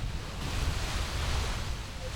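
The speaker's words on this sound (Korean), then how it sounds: "캄캄한 바닷가에는 흰 파도의 포말이 하얗게 부서지고 있었다." Ocean waves breaking on a dark beach at night, a steady close wash of surf and foam filling the whole moment with a low rumbling roar, no talk.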